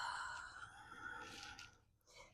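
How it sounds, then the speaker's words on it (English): A long, soft exhale during an intermediate yoga flow, a breathy sigh with a faint voiced tone that fades out, then a brief quiet breath after it, close and gentle. "And exhale."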